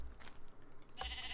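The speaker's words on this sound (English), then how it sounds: "So right now I'm shearing the black sheep here" Sheep bleating in Minecraft, a short faint bleat followed by a clearer one near the end, quiet and brief over low background noise.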